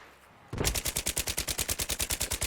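Rapid automatic gunfire from a video game weapon, a loud, evenly spaced stream of about twenty shots after a short quiet lead-in, with no talking.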